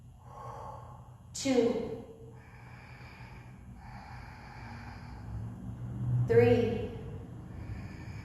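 Two audible breaths during a warrior 1 (Virabhadrasana) hold in an Ashtanga vinyasa practice, each a sharp intake followed by a drawn-out exhale, close to the microphone while a voice quietly counts between them.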